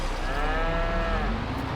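Cows low in a farming video game, a long drawn-out moo with steady harmonic tones over a constant dense background hum, loud and close, no talking.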